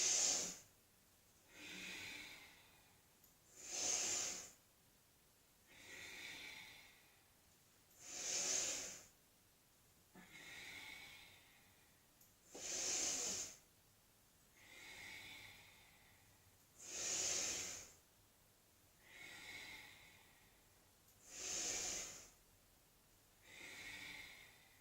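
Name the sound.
deep breathing during Tibetan rites exercise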